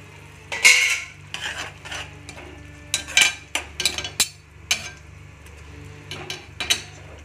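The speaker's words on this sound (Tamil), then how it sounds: "கத்திரிக்காயெல்லாம் நல்லா நம்ம மசிச்சு விட்டுக்கணும்" Cooked brinjal is mashed in a metal pan with a utensil, giving irregular scraping taps and clanks, some sharp and close, with quiet gaps between strokes and no voices.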